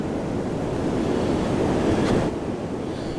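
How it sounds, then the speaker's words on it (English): Ocean surf surges onto a beach during Hurricane Ian, a steady, close, rushing roar mixed with gusty wind buffeting the microphone, with no voices. "the ocean's coming right up to here"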